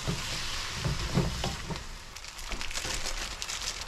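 Yaki soba sauce sizzling in a hot frying pan, a steady broadband hiss with faint crackles and a few soft stirring clatters, continuous throughout with no talking.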